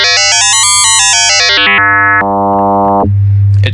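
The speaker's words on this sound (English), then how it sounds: "as you bring up the modulator frequency, it's going to spread out the harmonics" A loud FM synthesizer tone whose stacked harmonics spread and shift as the modulator frequency is raised, stepping down through distinct timbres over a steady low fundamental, alone and continuous.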